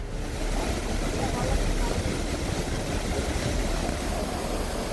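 Dense, steady roar of rushing floodwater in Kerala, continuous and loud with no breaks, filling the whole clip like a powerful torrent heading toward a waterfall.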